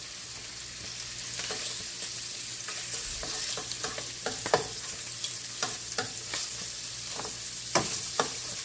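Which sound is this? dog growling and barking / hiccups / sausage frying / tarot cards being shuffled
sausage frying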